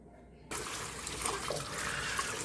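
Running water starts abruptly and pours steadily over Spanish moss being rinsed, a close, continuous splashing flow.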